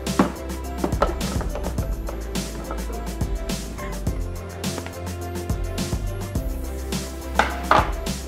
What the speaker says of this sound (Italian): Ora aggiungiamo le melanzane.